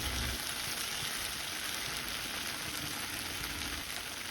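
Tofu fries in hot oil in a pan, a dense, steady sizzle and crackle that stays loud and even throughout, with no voices.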